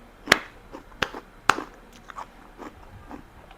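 Raw onion and ginger being chewed up close, a few sharp crunchy bites followed by softer mashing, with no talking.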